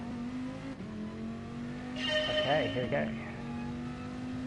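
A race car in the GT Sport video game drives along a mountain route, its engine holding a steady drone and then revving and shifting through a rising, warbling burst before settling, with someone speaking briefly over it.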